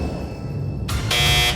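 A game show fastest-finger buzzer sounds in two loud electronic blasts, a short one and then a longer one, coming in after a moment of quiet studio hum.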